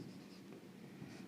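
A pen drawing a line on paper during a geometry lesson, a soft continuous scratchy stroke heard close up and steady for just over a second, with no talk.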